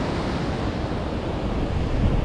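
Ocean surf rolls and breaks steadily on a Southern California beach, a continuous broadband wash with wind noise and a slight swell near the end, no voices.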